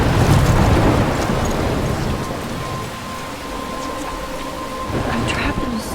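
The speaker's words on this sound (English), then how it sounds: "I'm trapped in a storm?" A thunderstorm with heavy rain in the video game Life is Strange, a dense hiss of rainfall with a rolling rumble of thunder swelling at the start and again near the end, loud and enveloping.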